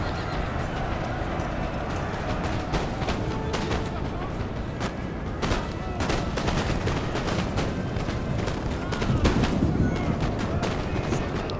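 Crackling musket volleys in a Napoleon: Total War battle at Waterloo, shots from troops firing out of a building mixed with horse hooves, neighing and battle noise, with sharp reports scattered throughout a dense, loud din.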